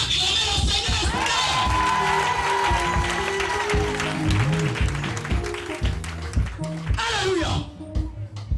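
A church congregation at a Sunday service cheers and shouts in acclaim of the Lord, a loud sustained crowd roar of mixed voices with a preacher's voice over it, swelling and then thinning toward the end.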